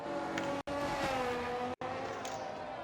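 A Red Bull race car in a racing video game on a Brazilian circuit accelerates hard, with a loud, constant engine whine broken by two abrupt, brief cuts at gear changes before the pitch climbs again.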